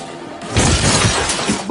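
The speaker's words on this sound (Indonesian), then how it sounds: "Bisma tidak sengaja menabrak pintu kaca sampai pecah" A glass door shatters with a sudden loud crash, followed by a dense spray of breaking, tinkling shards across the short moment.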